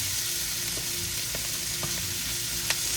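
Beef, peppers and onion stir-frying in a pan give off a loud, continuous sizzle, close by, with a few sharp pops and crackles scattered through it.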